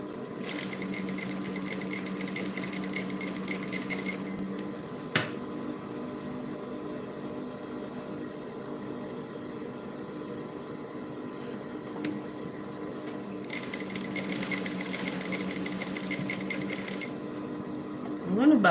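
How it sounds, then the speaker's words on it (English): A sewing machine stitches brocade fabric in a steady mechanical whir with rhythmic needle ticking, quiet and close, pausing briefly and then resuming, with a few small clicks in between. "Now be careful when sewing, okay, because of the pressure of the machine."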